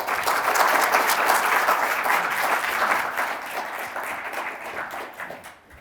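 An audience at a Royal Society evening discussion applauds to welcome the speakers: dense, sustained clapping that is loud at first and gradually fades toward the end.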